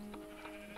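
Minecraft sheep give a few short, quiet bleats in quick succession, spaced roughly evenly over a soft steady background.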